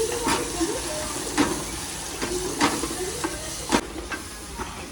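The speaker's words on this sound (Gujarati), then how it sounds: "ફ્રાય કરવા મૂકી દેવાનું" Cheese gotalo frying in a pan in a home kitchen, a steady hiss and sizzle with repeated soft scraping stirs and a few clinks, close and continuous.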